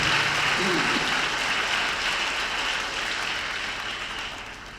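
Loud, dense applause for a couple at a Tamil church Mass celebrating a diamond wedding jubilee, steady from the start and slowly fading over a few seconds.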